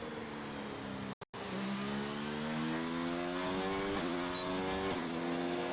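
An F1 car in the F1 2019 video game at the Hungary circuit accelerates out of a corner, its engine note climbing steadily through the revs with a couple of quick upshifts, loud and continuous.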